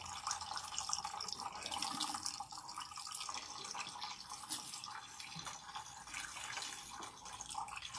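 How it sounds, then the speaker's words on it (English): Water runs and splashes steadily at close range as a Bendera deep hair treatment is rinsed out of hair, a soft continuous trickle with small drips and no talk. "So rinse out the Bandera until the water is completely clean."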